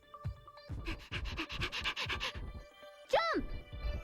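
A puppy pants quickly in Barbie's Puppy Rescue game, a close run of rhythmic breaths, followed by a short rising whine or chirp and then more soft panting.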